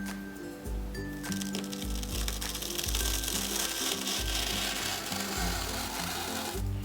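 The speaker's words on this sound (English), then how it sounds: "So now I'm using the utility knife and I'm going to start with some gentle establishing" A utility knife drags slowly through foam along a marked line while a made-to-measure baby reflux wedge is shaped. The close, steady rasping and scraping is broken by repeated low thuds, with no talking.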